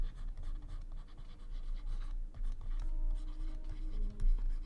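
A pen scratches across paper while a math solution is written out, giving steady soft strokes with short pauses in a quiet room.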